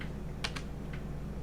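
Close, quiet keyboard typing while a credit card number is entered, a few sharp key clicks over a steady low hum.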